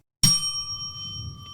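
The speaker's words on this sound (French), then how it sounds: "vous tapez sur la sonnette et vous donnez la réponse au micro" A quiz-show buzzer bell tapped once with a bright, sharp ding. The tone rings on clearly and slowly fades over a low room hum.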